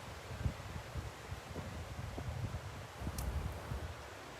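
Wind blows outdoors during a yoga session, a soft steady rush with faint rustling and light gusty buffeting, quiet and continuous with no talk.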